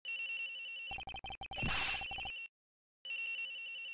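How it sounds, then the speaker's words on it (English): Electronic cell phone ringtone chiming from inside a locker in the Ace Attorney Investigations video game, a clear repeating melodic ring with a short pause, then the ring starting again. "Ring's coming from in here, sir!"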